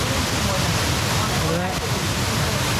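Rushing water of Kuang Si waterfall near Luang Prabang, Laos, a steady broadband roar filling the scene without pause, close and loud.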